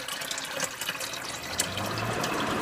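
Water poured from a container into a water distiller's base, a steady close splashing fill running throughout without pause.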